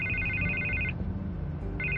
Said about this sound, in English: And I can't get the phone to stop ringing.